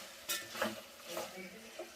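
Masala chicken biryani being stirred in a pot, with a few scraping strokes over a soft sizzle, moderately close and fairly quiet.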